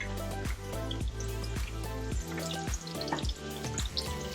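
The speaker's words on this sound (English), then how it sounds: "This is another batch of fried fish there." Panko-crusted mangrove snapper fries in a pan at medium heat, giving a dense, continuous sizzle with crackling pops and spatters at a steady, fairly close level.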